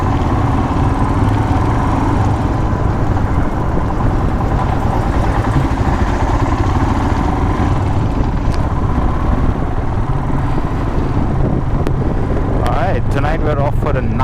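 A motorcycle engine runs steadily and loudly at the start of a night ride, a constant drone with wind and road noise throughout.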